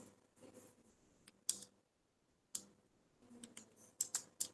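Computer keyboard typing in Tally accounting software, with bursts of key clicks and separate sharp Enter presses, close and fairly quiet with short pauses between.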